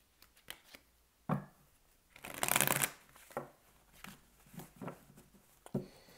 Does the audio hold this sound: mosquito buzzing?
no